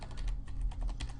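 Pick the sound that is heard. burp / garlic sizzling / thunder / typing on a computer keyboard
typing on a computer keyboard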